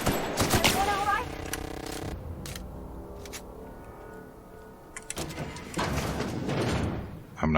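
A heavy mechanical door in the sci-fi game The Outer Worlds grinds and clanks open in two bursts, with a quieter humming stretch between them and game ambience underneath.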